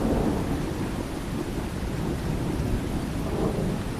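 Steady heavy rain pours through a night storm while deep thunder rumbles continuously underneath, dense and close with no pauses.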